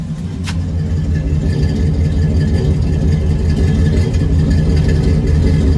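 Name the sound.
truck engine idling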